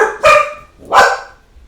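Two sharp, loud barks from nearby dogs ring out about three-quarters of a second apart, with nothing else around them.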